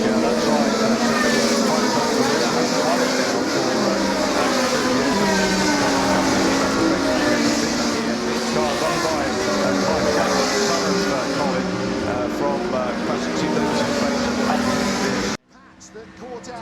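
Historic race cars, including a Lotus BRM and a Ferrari, roar and rev loudly on track in a steady engine drone, with commentators talking over it throughout before the sound cuts off sharply near the end.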